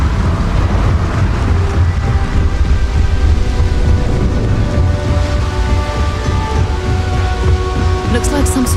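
A thunderstorm with lightning in the Starfield video game: loud, dense rain roars over rumbling thunder, steady across the whole stretch, with faint higher crackles near the end.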